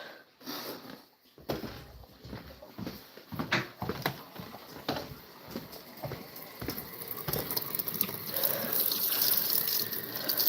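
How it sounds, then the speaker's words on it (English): Hot water runs from a tap while a Guinea hen is treated for bumblefoot, a steady broadband gush building in strength and continuing to the end, with scattered clatter and handling sounds over it. "Let me get the water like extra hot so that it doesn't cool off too fast"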